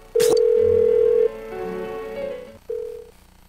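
Telephone tone in Persona 4 Golden, a loud sustained steady beep that cuts off, then lower tones and a short second beep, with no voices.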